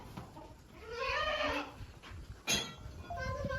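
Goats bleating in a farm pen, several loud wavering cries close by with a pause between calls, one sharp sound midway and more bleats trailing at the end.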